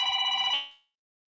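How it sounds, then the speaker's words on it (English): A business telephone bell rings in one bright, steady burst about half a second long, then cuts off and decays into silence. "Get a call on the business phone."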